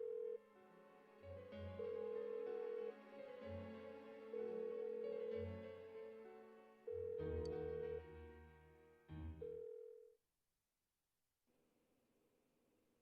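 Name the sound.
telephone ringing in the video game Persona 4 Golden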